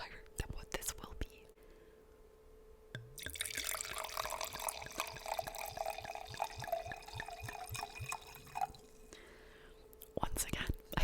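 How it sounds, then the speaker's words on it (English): Wine poured into a glass, a soft trickling, gurgling liquid flow lasting several seconds amid quiet whispered ASMR talk, with faint taps and clicks around it. "Once again, I poured way too big of a glass"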